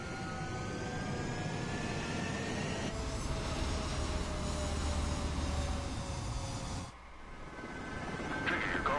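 Jet aircraft engines roaring in the Ace Combat 7 flight game as fighter jets take off, a steady loud whine and rumble with rising tones, briefly dipping near the end before swelling again.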